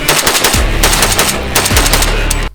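Rapid automatic-style bursts from an AK-47 rifle fitted with an ALG trigger, loud and close, a dense string of shots running nearly continuously for about two and a half seconds before cutting off.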